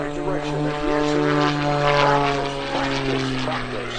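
A Cap 580 aerobatic airplane tumbles through maneuvers at an airshow, its propeller engine droning steadily and fairly loudly, the pitch wavering slightly as it rolls and gyroscopes around its wings.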